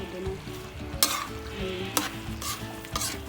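Pork menudo with hotdog sizzling in a pan while being stirred, a steady fry hiss broken by three sharp scraping clanks of the spoon against the pan, close and alone.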